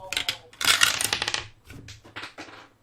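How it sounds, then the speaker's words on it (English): Dice clatter onto a table during a tabletop role-playing game, a burst of rattling bounces and rolls that settles, then a second, smaller round of tumbling clicks, close and crisp. "Oops, drop the dice again."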